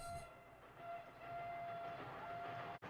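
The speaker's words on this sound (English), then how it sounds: "Do you think the train's going to wait for you?" A period train in a 1985 television mini-series rumbles steadily with a sustained whistle tone running through, a continuous, fairly loud rolling noise that cuts off sharply near the end.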